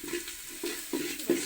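Onions frying in a hot pan on a stove, a close, moderately loud sizzle broken by four short bursts of stirring or scraping at roughly even intervals, with no one speaking.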